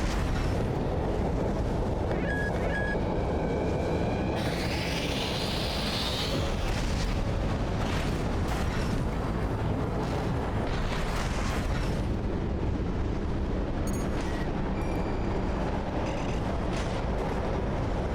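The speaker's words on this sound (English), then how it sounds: "Please don't fire the laser again." Sustained roaring laser blasts and rumbling explosions from the Eye weapon in Armored Core VI fill the whole stretch, dense and loud with a sweeping high whine midway and scattered sharp bursts.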